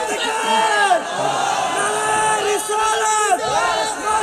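A large crowd at an Islamic waz sermon in Bangladesh chants a slogan in unison, loud and sustained, with several rising shouted phrases coming in repeated waves.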